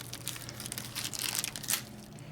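A very sharp knife rips through material with close, rough tearing and crinkling bursts that swell and fade over a couple of seconds, with no voices.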